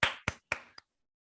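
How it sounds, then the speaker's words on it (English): Four quick hand claps, close and crisp, with the fourth lighter than the rest, followed by silence. "Claps for that."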